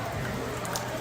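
Steady rain falls on an outdoor patio that has been covered against the weather, a constant close hiss with a few brighter drops standing out, and no talking.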